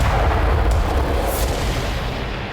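An explosion destroys a Ukrainian S-300 missile defense system in Kharkiv, producing a loud, sustained, rumbling roar that fills the whole moment and slowly fades, with no voices.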